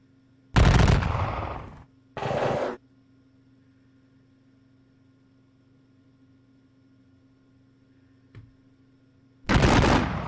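Musket and artillery fire from the Napoleonic war game Campaign Waterloo, set at the Battle of Quatre Bras: loud, close bursts of gunfire near the start and again at the end, a faint distant shot between, over a steady low hum.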